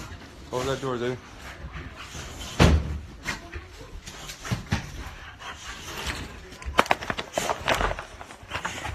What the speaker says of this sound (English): Close that door, dude.